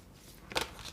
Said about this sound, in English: No, I'm going to shuffle more.